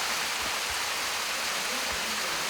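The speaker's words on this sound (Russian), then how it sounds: "Это белоснежный столб воды, обрушивающийся вниз и разбивающийся в миллионы брызг." The Khaisky waterfall's white column of water crashing down into spray, a dense, constant roar of falling water throughout.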